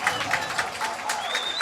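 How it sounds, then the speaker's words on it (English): A home crowd at a high school homecoming football game, North Penn against Pennridge at Crawford Stadium, claps and cheers after a touchdown in a steady, close wash of applause with scattered shouts. "The crowd going wild out here."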